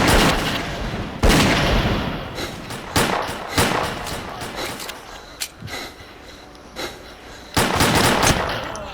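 Gunfire in the game S.T.A.L.K.E.R.: Clear Sky, loud irregular bursts and single cracking shots with heavy booming impacts, some close and some farther off, scattered across the whole stretch.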